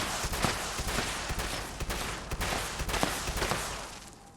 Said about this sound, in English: Yeah, that's a shotgun, alright.